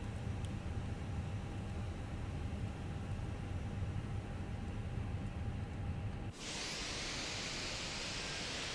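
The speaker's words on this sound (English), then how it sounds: "Starting engine 2." Engine 2 of a Fenix A320 in Microsoft Flight Simulator spools up, a low rumbling cabin drone giving way suddenly to a loud, steady high-pitched jet whine.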